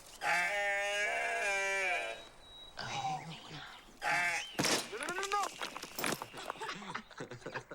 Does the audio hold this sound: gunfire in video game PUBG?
no